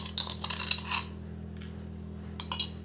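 Granulated sugar being poured and scooped into two bowls, heard as a short cluster of light clinks and gritty rustles against the bowl that then fades, with a faint steady hum underneath.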